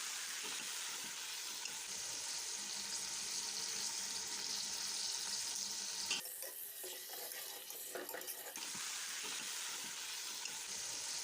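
Beef frying with whole spices in a pot makes a steady, dense sizzle that runs throughout, broken midway by a few seconds of stirring and scraping, close and fairly loud with no talk.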